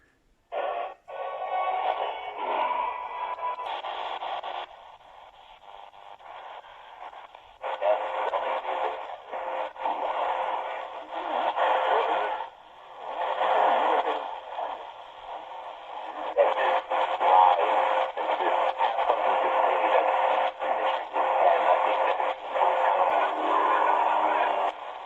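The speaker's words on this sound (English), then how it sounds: "this is Radio Exterior de España from Retekess" Shortwave broadcast of Radio Exterior de España received on an XHDATA D-219 portable radio, a band-limited, tinny voice and music signal fading in and out under hiss and crackle.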